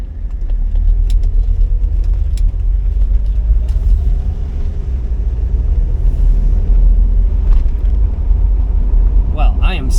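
A 1985 Mercedes-Benz W123 300D turbo diesel sedan heard from inside as it drives, with a loud, steady low engine rumble and road drone throughout and a few faint clicks and rattles near the end.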